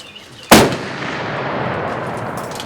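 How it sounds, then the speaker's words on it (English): Nine shotguns fire together at an outdoor shooting competition, merging into one sharp, loud blast, followed by a long rolling echo that fades slowly. "So it does sound a lot different down here when you got 9 guns going off at one time instead of only 5"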